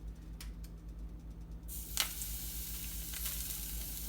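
Vegetarian seekh kebabs drop into melted coconut oil in a pan, and a steady bright sizzle swells up and keeps going, close and fairly quiet over a low hum, with a few small clicks.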